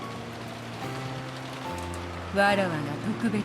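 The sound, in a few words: wind and rain in the video game Umineko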